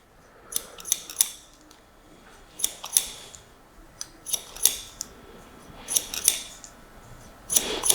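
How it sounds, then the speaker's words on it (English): Very large barber scissors snip through hair in scissor-over-comb cutting, with short bursts of crisp metallic snips in quick clusters, up close and alone. "using a very large scissor, like these ones, is perfect for scissor over comb"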